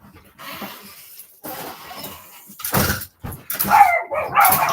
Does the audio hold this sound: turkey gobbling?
no